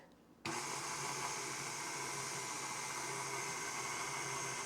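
Electric mixer switches on sharply and whirs steadily through pumpkin pound cake batter, a loud continuous close-up buzz with no talking.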